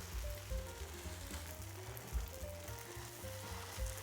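Cottage cheese pancakes (syrniki) sizzle and fry in a pan, a steady close crackle with small pops throughout and no talking.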